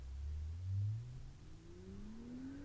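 A BMW M2 on a back road accelerates past, its engine note climbing steadily as it passes from near to farther away, moderately loud with no talk over it.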